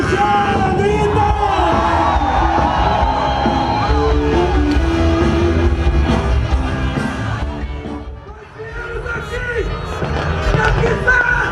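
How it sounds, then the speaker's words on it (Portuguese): A packed political rally crowd yells and cheers in a sustained loud roar, voices whooping and shouting together, dipping briefly before swelling back up. "sai do chão, grita!"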